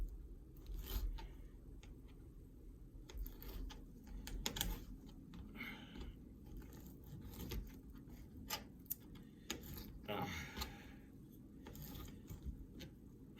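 Knife cutting raw chicken pieces on a plate for keto chicken nuggets, producing repeated short clicking and tapping strokes at close range over a low, steady background.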